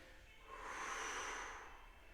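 A slow, audible inhale through the nose as someone straightens up from a forward bend during a golf-oriented yoga exercise. It swells and fades over about a second, close and quiet, with no talking over it.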